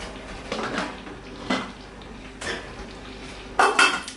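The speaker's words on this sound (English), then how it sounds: "I am going to cover these pots." Metal lids clank onto cooking pots of applesauce in a kitchen, four separate clattering knocks spaced about a second apart, the last one loudest and rattling briefly.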